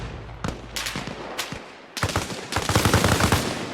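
Gunfire from the military shooter Arma Reforger on PS5 comes as sharp single shots spaced apart, then rapid automatic bursts that grow denser and louder near the end, close and crackling, with no voices over it.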